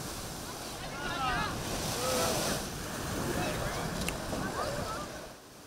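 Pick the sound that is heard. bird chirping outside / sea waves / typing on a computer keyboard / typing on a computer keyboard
sea waves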